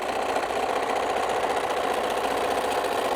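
A sewing machine back stitches fabric for a microwave potato bag, running as a steady, close, continuous mechanical whir with fast rhythmic needle chatter and no pauses.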